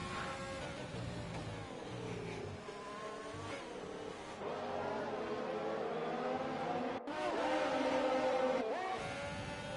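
Race cars roar around a circuit in a racing video game set in France, engines droning and shifting pitch as cars jostle close together, with a steady dense mechanical roar throughout.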